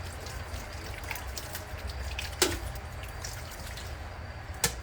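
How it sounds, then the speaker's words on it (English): Tap water runs steadily while hands are washed, a soft continuous trickle and splash close by, with a couple of brief louder knocks or splashes. "So now that I have my hair up, I have to wash my hands."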